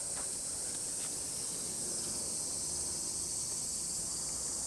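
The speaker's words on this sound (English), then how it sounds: "Oh my goodness, this is a cicada." A cicada calls from a tree with a constant, high-pitched buzzing whine that stays steady and unbroken throughout, loud and close over quiet outdoor background.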